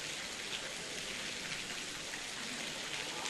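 Steady rain falls in Ranchi, a continuous even hiss of drops without break and no voices over it.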